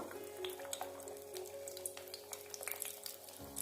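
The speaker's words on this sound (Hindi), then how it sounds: "अब मैंने ऑयल गर्म कर लिया पैन में और मैं इसको फ्राई करने लगी हूँ" Chicken shami kabab patties fry in hot oil in a pan, giving a steady close sizzle with small crackles and pops throughout.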